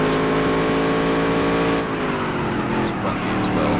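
Modified race car engines in the NASCAR Dirt to Daytona video game, a loud continuous multi-car engine drone with shifting pitch, over commentary talk.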